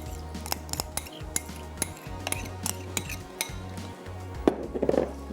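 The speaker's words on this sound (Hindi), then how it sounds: "अब ये ड्रेसिंग डाल के हमने कर लेनी है मिक्स" Salad is tossed with dressing in a bowl, giving repeated close clinks and scrapes of utensils against the dish in an uneven rhythm, with a faint low hum behind.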